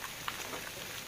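Steady morning rain falling with faint, continuous patter of drops on surfaces, soft and diffuse with no voices over it.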